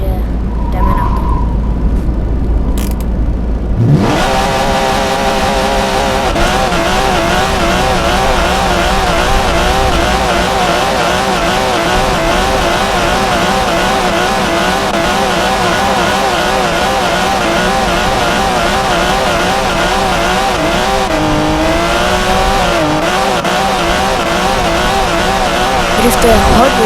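A Porsche 911 GT3 RS drifts across an open field in Driving School Simulator 2022, its engine droning loud and steady with wavering revs and tyre scrub; brief clicks open the clip before the engine takes over.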